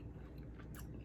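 Someone chews homemade frozen yogurt bites straight from a deep freezer, giving soft close-up crunches and squishy bites at a quiet level, with no talking.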